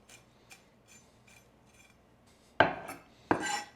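Fresh tarragon being roughly chopped with a knife on a cutting board in a home kitchen: a few faint light taps, then two loud, close chopping strikes near the end, with no talking.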